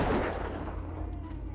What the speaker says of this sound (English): So I've been mostly just shooting them with a gun.